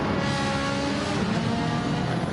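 Race cars pull away at the start of a race at Monza, a dense, continuous roar of many engines revving together at a distance.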